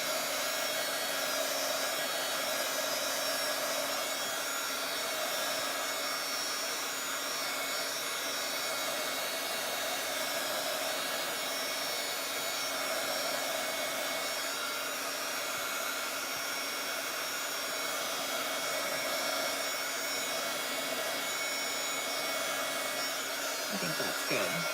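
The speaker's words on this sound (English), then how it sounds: "I think what I'm going to do instead is just dry it with the" A craft heat tool blows continuously to dry paint, a loud, even, close-up rushing whoosh with a steady tonal hum that holds unbroken throughout.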